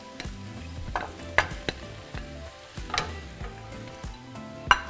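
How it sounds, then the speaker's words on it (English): Shaved steak and minced garlic sizzle in a hot pan, with a steady frying hiss broken by occasional scraping stirs and a few sharp utensil taps nearby. "after a few seconds, we're going to add 1 pound of shaved steak."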